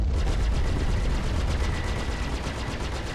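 Three ship guns on an F7C Hornet fire in Star Citizen, a loud, rapid, steady stream of shots with no pauses.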